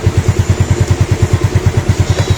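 A Yamaha Mio Soulty scooter engine idles close by, chugging in a fast, even pulse of regular low thumps with a slight mechanical clatter over it.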